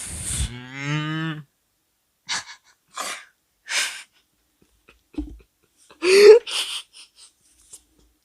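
A cartoonish cow moo from the Coromon video game sounds loud and up front at the start, then gives way to several short breathy, sneeze-like bursts scattered across otherwise quiet stretches.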